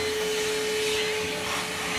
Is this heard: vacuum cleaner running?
yes